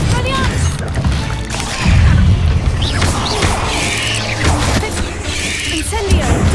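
A Confringo fire spell explodes in the Hogwarts Legacy video game, a loud booming blast with crackling bursts amid busy game combat noise.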